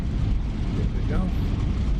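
Propeller wash from a warbird aircraft in a flight simulator game: a steady, loud, low roar that rumbles without letup for the whole stretch, with a voice talking over it.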